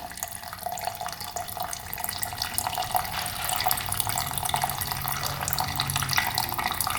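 Gasoline flowing steadily out of a disconnected carburetor fuel line on a brand-new dirt bike, a continuous close trickling, splashing stream with no speech.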